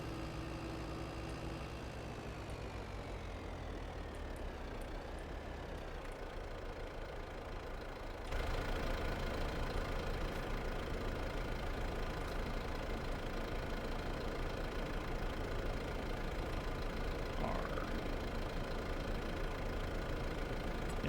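Tractor engine from Farming Simulator 22 runs in a steady, even idle drone that goes on throughout and steps up slightly louder partway through, with no voices.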